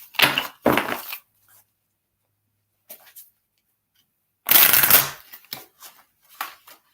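Oracle cards being shuffled and pulled from a deck, in several bursts of crisp riffling and sliding separated by silent gaps, close up and fairly loud, with no speech.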